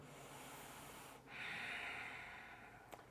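During a slow yoga practice, a single long, soft breath is drawn in through the throat in ujjayi style, a faint airy hiss lasting over a second in a quiet room, followed by a small click.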